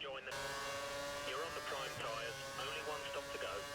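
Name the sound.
race car engine leaving the pit lane in video game F1 2013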